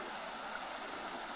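Small creek water rushing steadily where a second creek flows in, a dense, continuous hiss of close running water at a brook trout fly fishing spot, with no voices.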